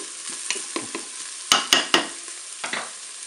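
Onions frying and sizzling in a Cookeo multicooker as they start to brown, stirred with a spoon that scrapes the pot in a few sharp bursts over a steady hiss, close up and with no talk.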